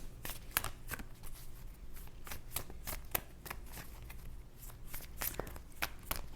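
Tarot cards are shuffled and drawn by hand close up, giving a rapid run of crisp flicks and riffling snaps with a few sharper slaps, quiet and alone.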